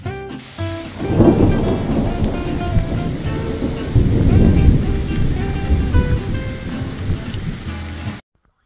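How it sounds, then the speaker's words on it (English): A thunderstorm on the Appalachian Trail: heavy rain pours steadily while deep rolling thunder swells loudly, peaks twice, then fades before cutting off, with no voices. "here we are again in a thunderstorm, soaked to the skin"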